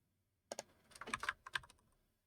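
Computer keyboard typing in quick, uneven bursts of close keystrokes, with a brief pause in the middle and silence before and after.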